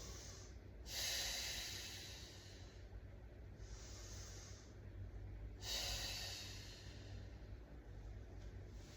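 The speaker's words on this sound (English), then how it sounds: "Five deep breaths here." Slow, deep breathing during a lower-body stretch, two long breathy inhales and exhales, close and soft with quiet pauses between and no voice over them.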